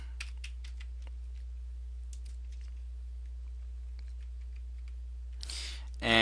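Sparse typing on a computer keyboard, a few soft scattered clicks and short bursts over a steady low hum, ending in a louder burst of noise.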